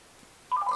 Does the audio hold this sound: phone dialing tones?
yes